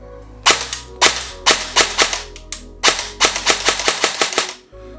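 A Specna Arms SA-E09 airsoft M4 AEG fires sharp, close semi-auto shots, a dozen or so cracks spaced apart at first, then coming in quicker succession.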